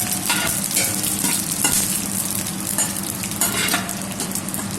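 Whole spices sizzle and crackle loudly in hot oil for chicken karahi, a continuous frying hiss with stirring scrapes throughout.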